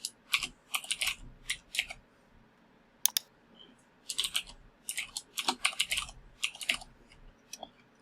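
Someone types a password on a computer keyboard, quiet bursts of rapid key clicks in irregular clusters with short pauses between them, close up in a calm room.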